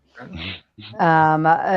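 A dog whimpers and whines close up, with a short yip, then a longer, higher, drawn-out whining cry, loud and plaintive.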